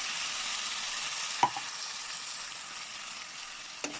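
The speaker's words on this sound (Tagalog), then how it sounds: "Ayan, halo-haloin natin." Sardines sizzle steadily in a frying pan while being stirred, a soft continuous hiss broken by two sharp utensil clicks against the pan; no one speaks.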